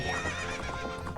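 A horse in Zelda: Majora's Mask neighs and gallops, a short, continuous burst of whinny and hoofbeats over layered game sound.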